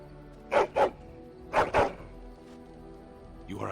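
A dog in the fantasy video game Dragon Age: Origins barks in two paired bursts, a double woof, a pause, then another double woof, medium loud over a low ambient hum.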